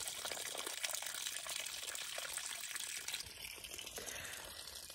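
Gray water from shower and sink draining out of an RV camper's holding tank, a steady rushing, gurgling flow that holds constant and eases slightly near the end, with no voices.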